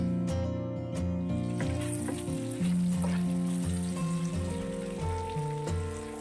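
Whole chicken and vegetables fry in butter for a roast, giving a steady close sizzle that runs beneath prominent background music.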